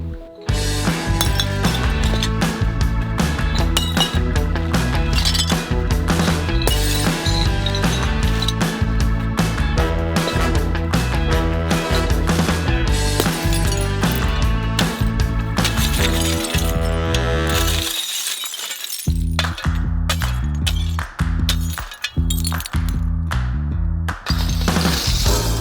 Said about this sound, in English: we have been saving a lot of bottles and glass and we are breaking them in the trench